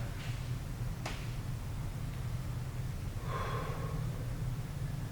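During a full-body mobility stretch, a short sharp intake of breath is followed by a soft, longer exhale, both close and quiet over a steady low background hum.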